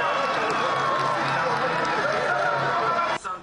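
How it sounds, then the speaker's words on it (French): Football fans in a Cameroon fan zone roar and cheer continuously as a loud, dense crowd, the noise holding steady before dropping off abruptly at the end. "toutes les actions camerounaises sont acclamées"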